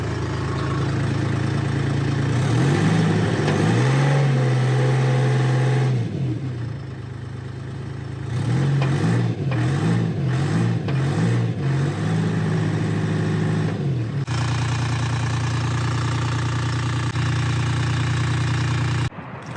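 An old Michigan wheel loader's diesel engine cranks, catches and settles into a loud, close idle, stumbles, cuts out and fires again with uneven rev bursts, then runs on with a steady rumble.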